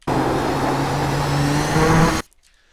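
A Nissan GTP ZX-T race car engine holds full throttle in a steady, loud, unbroken roar with rising pitch for about two seconds, then cuts off abruptly into near silence.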